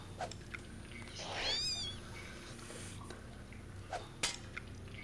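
A cat in the video game Deus Ex lets out one rising, wavering meow at moderate distance, set among quiet ambient hum, a few faint clicks and a sharp tick near the end.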